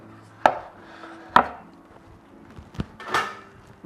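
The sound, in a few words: chopping chapati on a board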